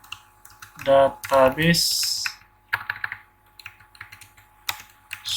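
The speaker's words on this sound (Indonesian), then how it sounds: "saya ketik di sini" Typing on a computer keyboard, with quick bursts of close, crisp key clicks following a short spoken phrase, then irregular runs of taps with brief pauses.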